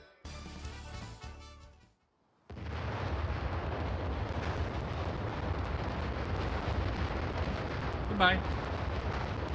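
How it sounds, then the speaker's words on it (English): A volcano erupts in the Super Mario RPG video game, a loud sustained rumbling blast of booming, crackling explosions that starts abruptly after a short silence and holds steady, with a brief spoken word before it. "Why is a volcano exploding?"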